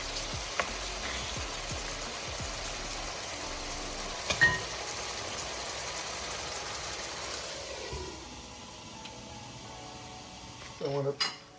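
Pineapple chicken cooking in a covered pan gives off a steady low sizzle, with a few faint clinks of utensils and a brief louder clatter near the end.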